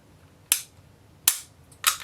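Three crisp, sharp dry-fire clicks from the single action trigger of a Sig P226X Legion SAO pistol, spaced unevenly apart, close and clean with no talking.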